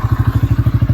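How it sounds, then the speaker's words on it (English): Motorbike engine idling at close range on a tight woodland track while being turned around, a steady rapid thudding pulse with clattering mechanical noise and no one talking. "Let's turn this bike round."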